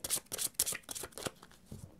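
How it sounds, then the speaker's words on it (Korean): Tarot keeper cards are shuffled and drawn by hand, giving a quick run of soft, papery riffles and flicks in uneven bursts, close by and fairly quiet, with no talking. "우선 키퍼 카드로 여러분 자신의 카드를 뽑아보도록 할게요"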